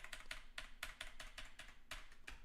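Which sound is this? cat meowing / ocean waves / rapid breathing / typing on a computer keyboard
typing on a computer keyboard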